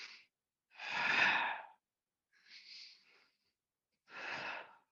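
Deep yoga breaths during a tantra-hatha yoga class come as four separate airy inhales and exhales, close and fairly soft, with silence between them.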